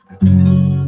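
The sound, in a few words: guitar chord with unfretted low E string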